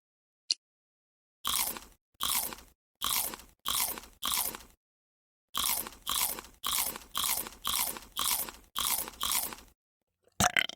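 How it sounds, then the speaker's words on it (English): Crunchy candy bitten and chewed in a Valentine's Day puzzle video game: two runs of sharp, loud crunches, five then eight, in a steady rhythm separated by silence, with a brief click at the start and another near the end. "Tap on the candy to eat it."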